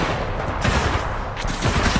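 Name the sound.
incoming gunfire hitting vortex shield, Titanfall 2 video game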